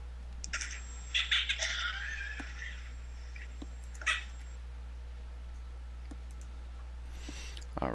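A kitten meows from a played video, thin and slightly distant, a few cries early and again midway, with light clicks over a steady low hum and no talking.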